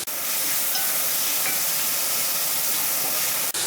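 Squid frying in a hot pan for fried rice, stirred with a wooden spoon; a loud, continuous sizzle and hiss runs throughout, close up, with no talk.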